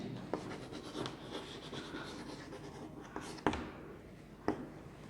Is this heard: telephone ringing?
no